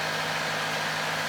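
A sailboat motoring under its engine near Gibraltar gives a steady, unbroken engine drone with a low hum, constant and fairly loud throughout, with no voices.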